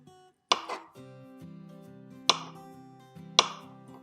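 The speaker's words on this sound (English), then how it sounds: "we're going to cut slices just like that" Knife slicing through soft food on a cutting board for oatmeal prep, three sharp crisp cuts spaced about a second or more apart, close and clear over a low steady hum.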